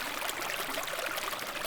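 Clear water rushes steadily along a man-made village valley stream beside a path, with a waterfall spilling into it, producing a continuous, close, broadband flowing wash with no voices.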